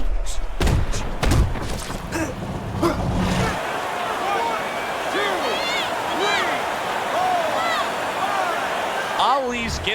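Punches thud in a Fight Night Champion boxing match, a cluster of heavy low impacts in the first few seconds followed by a crowd roar and commentary as the fighter drops to the canvas.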